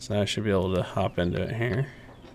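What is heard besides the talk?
No distinct noise like a dog, phone or traffic.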